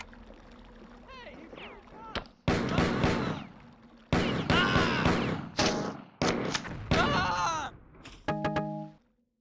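Shotgun blasts in the classic first-person shooter Marathon Infinity, several loud booming shots in bursts separated by short quiet gaps, ending on a brief electronic chime, with someone talking.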